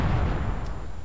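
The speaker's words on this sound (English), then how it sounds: "Now we can see the goblin cannons." Goblin cannons firing in Myth 2, heavy low booms and rumbling blasts close together with a dense, continuous roar and no break.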